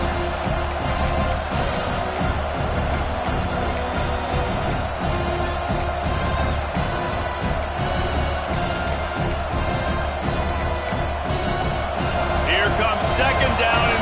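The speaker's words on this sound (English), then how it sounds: "this crowd is turning it up a notch" A stadium crowd roars steadily at a college football game, Arizona versus ASU, with dense cheering and noise throughout and a broadcast commentator's voice faintly mixed in.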